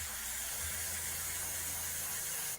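An airbrush sprays hobby paint with a steady, continuous close-up hiss that holds evenly for a couple of seconds and then stops abruptly.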